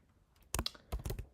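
Keys clack on a computer keyboard while code is written for a LeetCode problem: a quick cluster of close, crisp keystrokes after a short quiet pause, with no talk.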